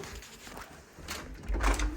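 Someone rattles the handle of a locked door, with a few short knocking clunks and a louder thud near the end, close by in a quiet room.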